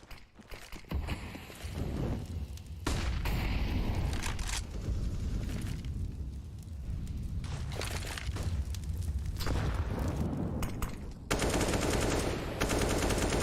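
Rifle spray gunfire in a Counter-Strike esports match, sustained rapid bursts of automatic fire with short gaps, loud and continuous, with no voices.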